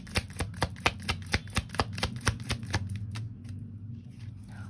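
Tarot cards are shuffled by hand in a quick run of about a dozen crisp riffling taps that thin into softer rustling, close and quiet with no talk.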